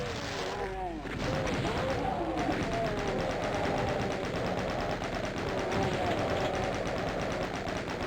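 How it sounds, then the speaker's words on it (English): Rapid gunfire from the 1993 game Doom rattles in a steady stream of dense, repeated shots, loud and continuous after a brief opening, with a speaking voice mixed underneath. "Desperately trying to shoot that barrel."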